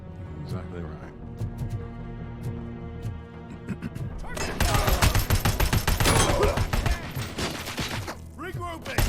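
Heavy gunfire from a big gun in Robocop: Rogue City, first sparse heavy shots under music and talk, then a dense roaring fusillade of rapid blasts filling the last half, with voices throughout.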